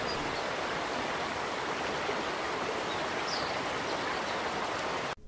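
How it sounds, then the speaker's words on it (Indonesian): A clear river flows steadily, a dense, even wash of running water that stays close and constant throughout, cutting off abruptly at the very end, with no voices. "di sana juga terdapat sungai yang mengalir dengan jernih"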